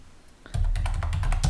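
Keystrokes on a computer keyboard while a short greeting is typed into a message, a quick close run of clicks that starts abruptly and keeps up steadily, fairly loud and with no voice.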